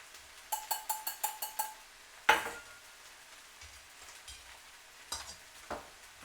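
Feta cheese is added to eggs frying in a pan, giving a faint continuous sizzle under a quick series of light metallic taps and a couple of louder scraping clatters, close and quiet with no talking.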